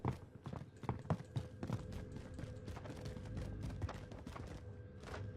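Rapid running footsteps in the game Warzone patter steadily and close together over a constant hum of game background noise.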